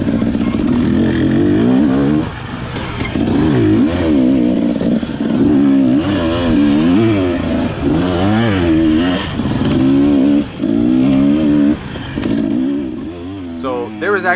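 An enduro motorcycle tears along a forest trail during a race, its engine revving hard and continuously with rising and falling pitch, loud and close, with clattering and scraping from the terrain.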